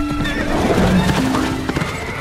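A horse whinnies in a long, wavering neigh while hooves clatter beneath it, loud and close, with a few sharp knocks near the end.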